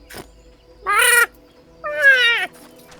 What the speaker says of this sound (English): just good chocobo noises